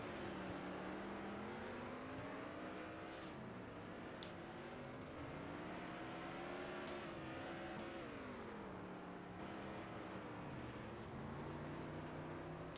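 Super stock race cars roar around a dirt track at a teams nationals event, several engines rising and falling in pitch as they accelerate and pass, loud and continuous.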